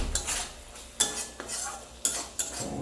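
Tomato and ginger paste fries in mustard oil while a metal spoon stirs and scrapes the pan in several distinct knocks, with a soft sizzle underneath.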